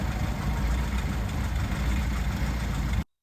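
A 1954 Ford Popular engine idles after a crank start, a steady, loud, rumbling low running note close by that cuts off abruptly near the end.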